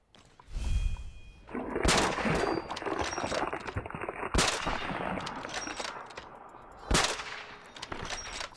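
Gunfire in Fallout 4 with a Ground Zero zombie apocalypse modlist: several loud, sharp shots spread over the clip, separated by a dense, noisy rumble of gameplay.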